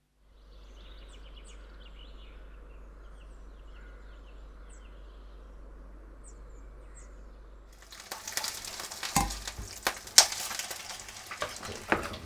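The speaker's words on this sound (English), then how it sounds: "At this rate, my sausages will be cooked by lunchtime" Sausages frying in a pan give a steady low sizzle with faint bird chirps outdoors, then louder clattering and stirring noises take over near the end.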